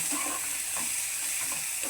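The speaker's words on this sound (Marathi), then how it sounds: "आलं लसूण पेस्ट टाकली। आता हलवून घेऊया जरा, त्याला परतूया थोडंसं चांगलं।" Ginger garlic paste fries in hot oil for an egg masala, a dense, steady sizzle and hiss that stays loud and close throughout, with faint stirring underneath and no voices.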